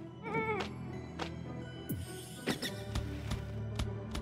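Sheep bleat in the video game Phobies, several wavering cries heard over busy game music and effects, with sharp clicks and hits scattered among them.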